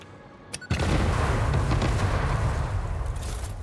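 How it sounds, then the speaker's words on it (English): Huge bomb explosion in a video game: a sudden loud blast after a brief click, then a long, dense rumbling roar that fills the rest of the moment with little decay. "One of the really big bombs does not kill these guys."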